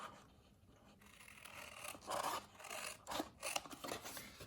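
Material being cut along a score line for a Halloween craft project: soft, raspy snipping and scraping strokes in short bursts, close and fairly quiet, with no talking.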